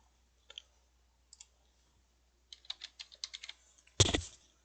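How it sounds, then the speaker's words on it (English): Close computer keyboard typing, a few isolated keystrokes followed by a quick clattering burst of keys and a louder final clack, with no talking. "okay, I typed in the word water"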